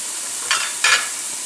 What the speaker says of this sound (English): So in place of bacon fat to saute, just put a little olive oil and do the vegetables.